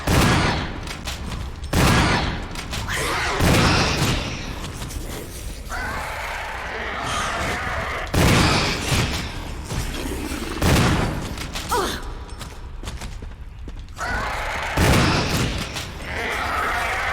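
Shotgun blasts fired at hunter creatures in the Resident Evil 1 remake boom out loudly at irregular intervals, several seconds apart, with game noises and a voice talking between them.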